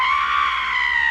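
A woman's shrill, sustained scream from the 1985 film Clue, loud and steady for about a second with no other sound around it.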